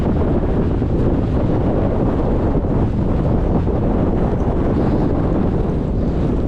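Strong, relentless wind on an exposed fell hike in the Northern Fells roars loudly and continuously across the microphone, a dense unbroken buffeting with no talk heard.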